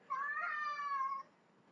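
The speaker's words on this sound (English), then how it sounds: "I believe my cat is making an appearance" A pet cat lets out one clear, drawn-out meow close by, lasting about a second, with quiet room tone around it.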